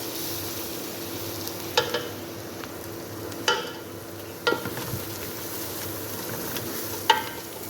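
Spices stirred into a pan of fried onions for shrimp biryani, a steady close sizzle broken by a few sharp scraping clacks of a spoon against the pan, with no talk.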